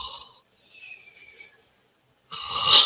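A person imitating snoring with their voice: a short snorting inhale, a pause, then a longer raspy breath and a louder nasal snort at the end, close and alone.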